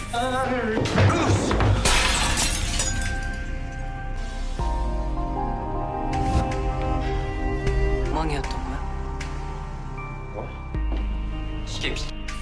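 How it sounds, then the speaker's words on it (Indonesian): An antique object is knocked over and shatters into pieces, a sharp breaking crash set against a dramatic music score. "Seong-jun pun tak sengaja menyenggolnya hingga hancur lebur"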